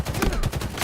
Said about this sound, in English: rapidly fire that pistol and it can give you headshots